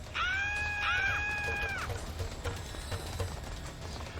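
Enemies scream in the tactical strategy game XCOM Long War: a shrill, drawn-out cry of anguish lasting over a second. Softer clattering, hoof-like thuds follow over quiet background noise.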